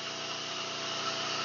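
An angle grinder runs off a Philking fully automatic inverter silent generator, giving a steady, even motor whine that holds constant through the short stretch with no talk.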